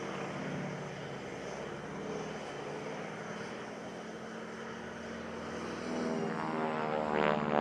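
A Harvard propeller plane from the RNZAF historic flight flies at the Tauranga City Air Show. Its engine drones steadily at a moderate distance and swells louder near the end, with no voices.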